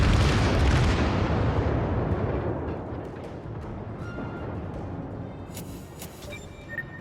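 The battleship Kongou fires a heavy broadside in World of Warships, a loud, deep boom that opens the clip and slowly rumbles away, followed by fainter distant thuds and a steady ambient roar.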